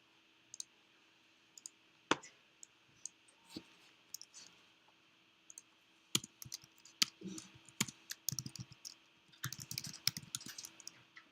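A computer mouse clicks in scattered, sharp taps, single clicks and short quick clusters, close and fairly quiet against a near-silent background.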